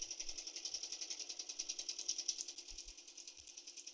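A sewing machine stitching through a bag, running with a fast, steady mechanical chatter of the needle and a pulsing rhythm, close and continuous with no voices.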